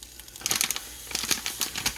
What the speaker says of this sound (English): Great, my stove is already starting to kind of crackle.